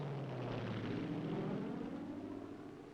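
Several propeller airplanes flying in formation over a drop zone, a loud sustained engine drone that sweeps downward in pitch as the aircraft pass overhead and slowly recede.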